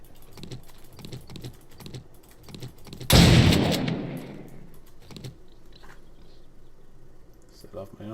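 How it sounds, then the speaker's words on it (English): Shotgun blast in a video game, a single loud sharp boom with a decaying rumble, surrounded by quieter keyboard clicking and a voice speaking before and after. "Set off my own shotgun."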